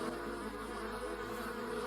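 Swarming bees in a VRChat game world produce a steady, droning buzz, fairly faint but continuous, with no other sounds.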